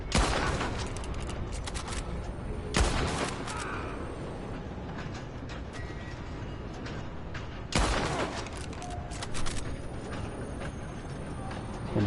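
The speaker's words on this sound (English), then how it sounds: "And I'll just go randomly shooting whatever I can find." Repeated gunfire in the Red Dead Online Western game: sharp loud shots at irregular intervals, with two especially strong blasts amid a dense, noisy backdrop of lesser reports and clatter.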